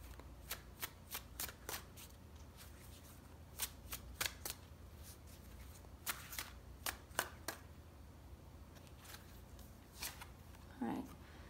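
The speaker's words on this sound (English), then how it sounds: "So let's pull some clarifying cards." Tarot cards are shuffled and pulled, giving a series of sharp, close riffling snaps and flicks spaced irregularly over a quiet background.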